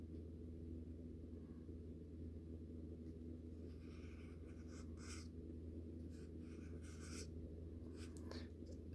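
A Sharpie marker drawing across a surface, soft scratchy squeaking strokes in short bursts over a low steady hum, faint and close.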